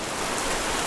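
Steady rain hisses close by on hard surfaces during outdoor political canvassing on a wet day, a dense, unbroken wash of drops with no voices.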